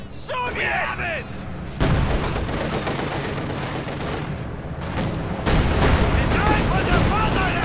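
Mortar and machine gun fire in the Company of Heroes 2 video game, loud and continuous with dense gunfire bursts and heavy booms, under a voice commentating.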